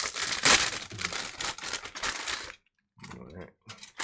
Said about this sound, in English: ASMR time of opening all the bags